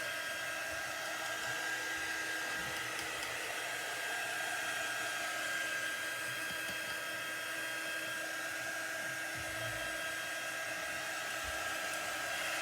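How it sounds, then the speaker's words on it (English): A hair dryer blows steadily and continuously on a glued chalk craft door tag, a loud, even whooshing hum with no pauses or voices. "I'm gonna dry this."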